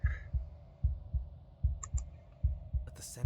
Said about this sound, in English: a wooden and fleshy heart beating with an unbroken rhythm